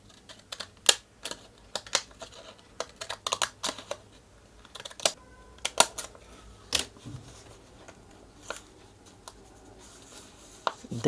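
Zig zag paper shaper craft scissors snipping across the top edge of a paper envelope, a series of sharp, close, irregular clicks and crunches with short pauses between cuts.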